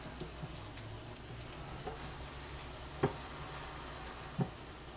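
A buttered grilled cheese sandwich sizzles steadily on a closed grill, a quiet continuous frying hiss broken by a few faint pops and clicks.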